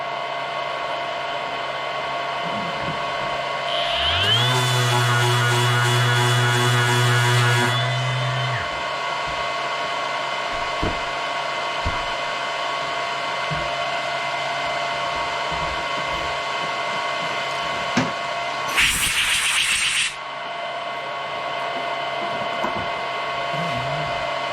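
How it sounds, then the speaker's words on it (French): Sanding with a powered tool gives a steady whirring motor hum. An early stretch brings a louder rising whine that holds for a few seconds, and a short harsh burst comes later, with faint clicks and knocks between. "Je vais poncer un petit peu juste pour voir."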